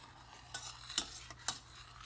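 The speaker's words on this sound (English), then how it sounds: "Just continue to stir" A spoon stirs a thickening sauce in a pan for a low-carb green bean casserole, giving soft scraping strokes and a few light metallic clinks over a faint sizzle, close and quiet, with no talk.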